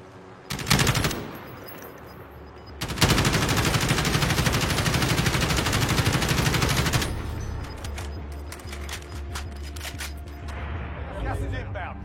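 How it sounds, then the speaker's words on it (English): An assault rifle fires in a video game: a short burst, then a long sustained stream of rapid shots lasting several seconds, followed by scattered distant shots, with voices talking throughout. "I've got a big ass assault rifle I can shoot with"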